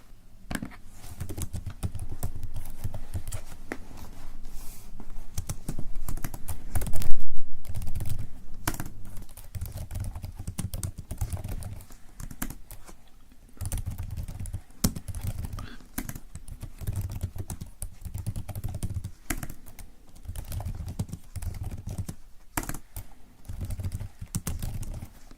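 Steady computer-keyboard typing at close range, a long run of quick irregular key taps with brief pauses, soft and intimate in a quiet room with no talking.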